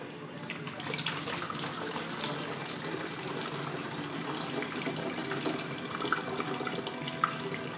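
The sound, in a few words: worm tea liquid draining through a funnel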